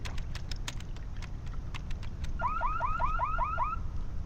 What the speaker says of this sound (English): The alarm is active.